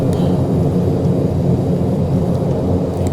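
In the Prepar3D flight simulator, a King Air's engines drone as a steady, dense, low rumble on approach, continuous and unbroken with no voices over it.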